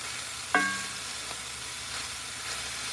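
A large batch of onions frying in a pan for beans and rice with cubed steaks, a continuous sizzling hiss with a short clatter of stirring early on, then the even frying noise carries on alone.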